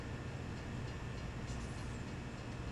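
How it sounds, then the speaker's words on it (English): A train in Farming Simulator 17 running along the rails at speed, a steady loud rumble and roar that holds without a break, with no talking. "This train actually feels a little bit slow, even though we're bombing along at 51 miles an hour."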